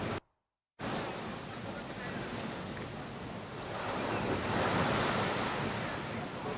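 Sea waves roll in beside a nearly sinking coastal compound at Agavedzi, a continuous loud surf roar with wind buffeting the microphone, briefly cut to silence at the start and swelling stronger near the end.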